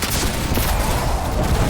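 A cluster launcher in Destiny 2 fires with a loud, dense crackle of rapid explosive bursts that blur into one continuous roar, close and sustained.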